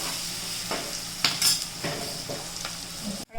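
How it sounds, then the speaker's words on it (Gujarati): Chopped onions fry and sizzle in a pan for batata poha, a steady close hiss broken by a few stirring scrapes and soft utensil knocks, with no voices. "કાંદાને થોડીક વાર ચડવા દેવું"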